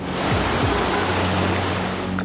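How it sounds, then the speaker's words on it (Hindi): Drain water from the Badshahpur drain gushing back onto Sohna Road at Vatika Chowk in Gurugram, a steady, dense roar of rushing water with a faint low hum beneath, continuous and loud throughout. "बादशाहपुर ड्रेन से पानी वापस सड़कों पर आ"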